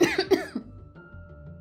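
A woman coughs loudly, with two or three harsh, quick coughs up close at the start, followed by near quiet.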